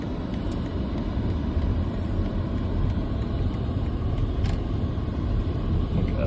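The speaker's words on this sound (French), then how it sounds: "un petit peu de circulation de voitures en Arizona" Car traffic in Arizona is heard from a distance as a steady low rumble that builds slightly and holds, with no voices over it.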